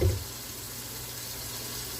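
Warm water poured from a tap into a warmed mixing bowl for pizza dough, a steady close hiss and splash that continues evenly after a brief initial clunk.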